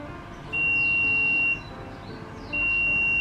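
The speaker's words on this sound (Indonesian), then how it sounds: "Ini alarmnya bunyi karena kelembapannya di bawah 63" An HHD 56 egg incubator's low-humidity alarm sounds two long, steady high-pitched beeps, each about a second long with a short gap, over a quiet background hum.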